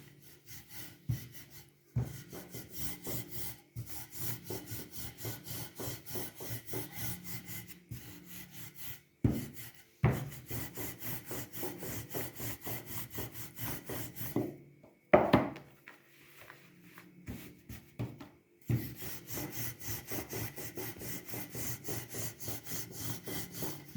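A knife trims the sides of a homemade cake in long rhythmic rubbing strokes that repeat steadily. It is close and fairly soft, broken by a few sharp knocks, with no voices.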